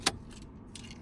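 Car keys jangle sharply as they are pulled from the ignition of a Volkswagen, one bright burst followed by faint lighter jingles over a low, steady hum.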